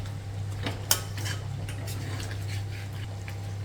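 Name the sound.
stirring chicken curry with coconut pieces and curry leaves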